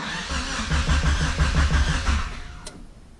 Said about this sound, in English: There's the fuel pump.